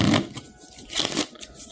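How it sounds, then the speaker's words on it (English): A deck of playing cards being shuffled while setting up a board game, giving a couple of brief riffling bursts at low volume with quiet gaps between them. "And we're going to shuffle these again."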